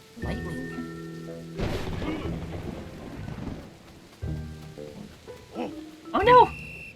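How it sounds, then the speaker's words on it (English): Thunder crashes and rain in a video game storm, with rumbling bursts and a steady wash of rain alongside game music and chimes. "Lightning."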